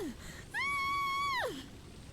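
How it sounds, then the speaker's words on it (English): A girl's scream from the video game Dark Parables 14, a single sustained high-pitched cry lasting about a second, fairly faint and distant-sounding, rising sharply and then falling away. "I can hear a girl screaming in the direction of the outer wall"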